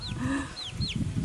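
Chickens on an off-grid farm in Jamaica cluck and squawk close by in short, overlapping calls, with a few high chirps over a busy rustling background.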